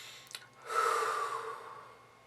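One deep breath drawn in and let out slowly, close and soft, a brief catch at the start and then a long airy exhale that fades away.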